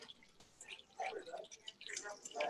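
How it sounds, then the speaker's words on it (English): Residual frying oil dripping off a slotted metal spatula lifting fried latkes, a faint busy patter of drips and sizzle under quiet kitchen noise. "all the residual oil is dripping out"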